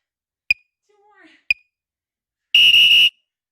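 Workout interval timer beeping: two short bright beeps a second apart, then a longer sustained tone, with a brief bit of voice in between.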